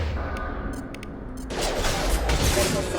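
Gunfire in Mass Effect 2 rattles in a rapid burst, loud and close, with a few sharp clicks before the shooting swells; a voice is briefly heard.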